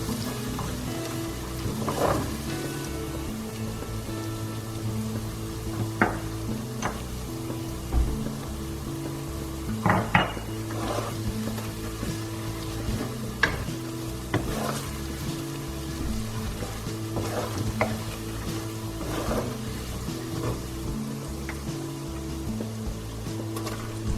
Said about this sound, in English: We're going to nicely stir this ginger and garlic in for a few minutes